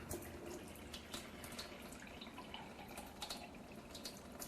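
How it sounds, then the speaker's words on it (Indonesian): Water pours out of a Kangen Water machine draining at its maximum flow rate during a cleaning rinse, making a continuous hissing, splashing gush with no voices. "Kita buang airnya dengan debit air yang paling besar"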